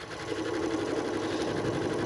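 A home sewing machine in good condition stitches a zigzag across a hole in a pair of jeans, a loud, steady whirring buzz with rapid regular needle chatter running continuously throughout, no voices.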